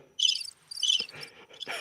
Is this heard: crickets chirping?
yes